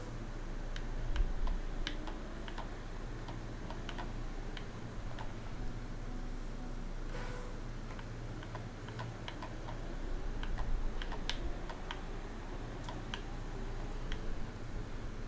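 Quiet, steady tapping on a computer keyboard, a long run of light clicks in irregular bursts with brief pauses, faint and close, with a low background hum and no voices.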